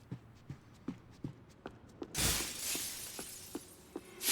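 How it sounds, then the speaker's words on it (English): Glass shatters loudly as Max walks through it in Max Payne 3, a bright crash after a run of steady, evenly spaced footsteps, followed by scattered tinkling pieces and another burst at the end. "Fucking Max just walks through a glass like he's the damn Terminator."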